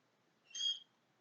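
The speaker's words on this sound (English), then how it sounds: "My bird is playing and shrieking." A pet bird playing with a little plastic-box feeder lets out a single short, high, piercing shriek, close by, against a quiet room.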